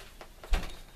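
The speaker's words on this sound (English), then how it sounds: "I've got to shut the door" A door being shut indoors, landing as a single dull thud about halfway through against a quiet room.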